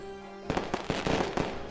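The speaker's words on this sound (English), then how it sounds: "fireworks." Fireworks in an animated pony holiday comic dub: after a sustained tone, a quick run of sharp crackling bursts and pops erupts, loud and close, lasting over a second.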